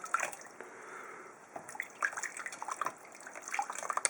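Small splashes of water poured over newly hatched snakes to rinse off clinging vermiculite, wet irregular spatters and trickles at close range with no talk.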